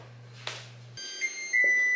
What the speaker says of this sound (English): Does anyone else's oven like sing you songs for a million years when the food stops cooking?